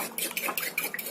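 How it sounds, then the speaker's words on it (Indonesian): A spoon stirs a seasoned sauce mixture with salt in a pan: light metallic clinks and scrapes come in quick, irregular strokes, close and fairly soft. "Kita aduk lagi sampai semuanya tercampur rata."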